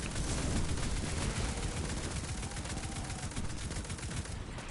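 Dense, continuous automatic gunfire from a new gun in the video game Destiny 2, loud and sustained throughout with rapid overlapping shots and no pauses.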